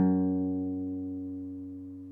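One guitar note on the low sixth string, fretted at the second fret with the first finger, sounds once and then sustains as a warm, steady tone while it gradually decays.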